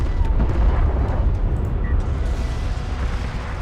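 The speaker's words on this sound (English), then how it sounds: "Oh, and the bomb on the carrier!" A bomb detonating on a carrier in the real-time strategy game Homeworld: Deserts of Kharak, a heavy sustained rumbling blast amid ongoing battle noise, with no talk.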